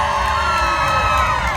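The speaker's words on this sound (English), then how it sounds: "Let's hear it from Dimitri's crowd" A crowd cheers and whoops at a pig race in Alaska, with children shouting among a loud, continuous roar of voices that holds steady throughout.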